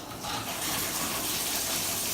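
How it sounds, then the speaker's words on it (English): A bathtub faucet and shower running together from a miswired fixture, a steady rushing gush of water that swells after a brief start and stays constant, no talk. "you both get the shower and the bath at the same time"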